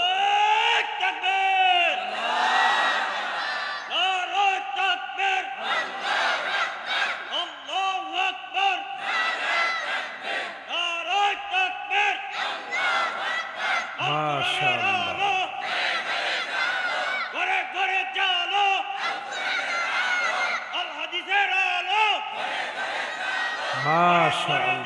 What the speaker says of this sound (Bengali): মনোপুত হবে এরকম একজন তাকবীর দেন দেখি